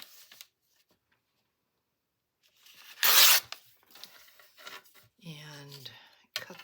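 Leftover paper scraps being cut down for a collage page, with one loud burst of tearing or snipping and a few softer paper rustles and scissor sounds, near and close to the mic, with a brief voice between them.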